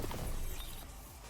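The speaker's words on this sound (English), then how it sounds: "It froze and shattered." A frozen enemy shatters in Destiny 2 with a short, loud, bright crash of breaking ice that fades over about a second.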